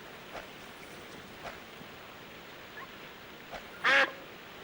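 A single short duck quack from the video game Escape from Monkey Island, sounding near and clear near the end after a few faint, sparse clicks over quiet ambience.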